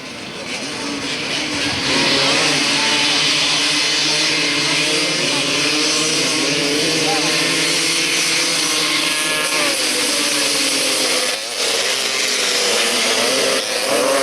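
Solo 250-class motorcycles at a 1991 inter-centre team grasstrack championship roar past as a pack, a loud, sustained engine drone that swells and holds with a brief dip near the end, and a commentator talks over it.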